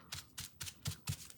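Wax paper being crumpled by hand at close range for a card-making technique, five quick crinkling bursts in a steady rhythm, soft and dry with no talking.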